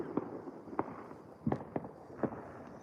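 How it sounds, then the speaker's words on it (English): Fireworks go off at night on New Year's Eve, heard from a balcony as a scattered series of five or six sharp pops and bangs at irregular intervals over a steady background rumble. "I guess they just want to pop off their fireworks throughout the night"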